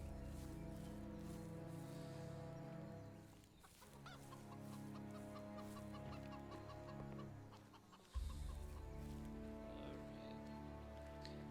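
A chicken clucks repeatedly in the video game Of Ash & Steel, close and clear over a droning musical background, with one sharp thump near the end.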